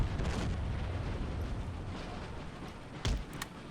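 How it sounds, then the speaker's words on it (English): Artillery in Empire: Total War fires canister shot: a dense, rumbling wall of battlefield booms and blasts, with one sharper, louder report standing out near the end. "we're preparing to fire canister upon our enemies. The center battery will fire."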